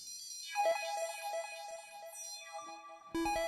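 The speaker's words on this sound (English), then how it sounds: "It turns on a delay." A live electronic performance in Ableton Live with a delay effect switched on, bright synth tones ringing and repeating in echoing trails before a new tone cuts in at the end.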